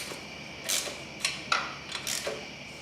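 Exhaust header bolts on a Honda CRF 300L being snugged up with a wrench, a few short ratcheting clicks and metallic creaks in quick bursts, close and fairly quiet, with no talking.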